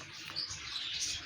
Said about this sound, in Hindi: ये बहुत ही एक प्यारा सा पैरेट है